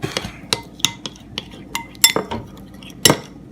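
Metal utensil clinking and scraping against a bowl while stirring a frozen banana bites mixture, a series of sharp irregular taps and clinks at close range, no talking.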